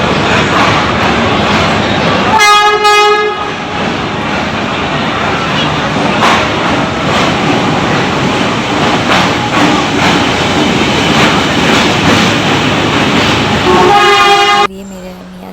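A train's horn blasts near the start and again near the end over a loud, steady rumble of rolling rail cars at a station, with a murmur of voices mixed into the din.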